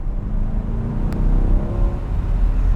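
A 2024 Chevrolet Corvette C8 Stingray 3LT, an open-roof car, gives a deep steady V8 engine rumble, loud and close, holding a sustained low drone with a slight rise in pitch.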